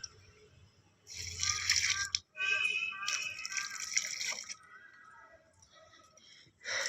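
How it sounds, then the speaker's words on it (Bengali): A bitter gourd plant and other garden plants are watered in the morning on the first day of the Bengali new year, with bursts of splashing, trickling water separated by short pauses. Faint voices are heard at times. "আমি এসে গাছগুলোকে রোজ সকালেই জল দিই।"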